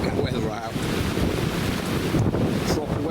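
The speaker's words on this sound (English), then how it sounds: "Proper westerlies coming in at the minute" Strong westerly wind buffets the microphone beside a lake with whitecap waves, a constant loud roaring rush with water churning underneath and no letup.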